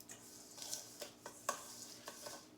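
A spoon stirring key lime cheesecake filling in a bowl: soft scraping strokes with several sharper clinks of the spoon against the bowl, quiet and close, with no voices.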